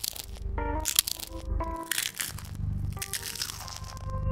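Potato chips crunched in a palm close to the mic, mimicking footsteps in dry leaves: loud, crisp crackling crunches in irregular bursts with varying force, close and dry, no voices.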